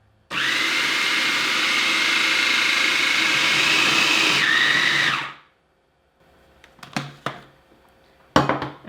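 Blender grinding peanuts into peanut butter: a loud, continuous whirring roar for about five seconds that shifts pitch and then stops abruptly, followed by a few quiet clinks and knocks.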